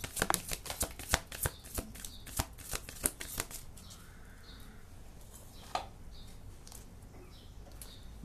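Oracle cards being shuffled by hand, a quick run of crisp riffling snaps and flicks in the first few seconds, then quieter, sparser handling against a soft room hiss.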